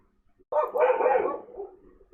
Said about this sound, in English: Like barking at the night, barking at the day, like they always barking. They even bark at their owners.